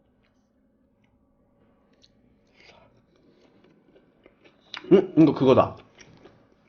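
Someone takes a bite of wood-fire grilled pork belly dipped in black duck sauce, giving a brief, close, moist burst of chewing and crunching after a few faint clicks, with a short spoken remark.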